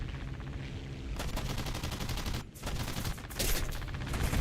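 Aircraft guns fire in War Thunder as rapid bursts of machine-gun fire, loud and close, broken by a short gap before the firing starts again.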